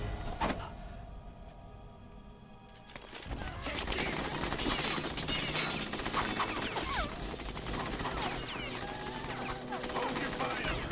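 Gunfire in the video game Metal Gear Solid 2, bursts of rapid automatic shots and sharp cracks that go on for several seconds after a brief quieter lead-in, dense and close, with voices over it.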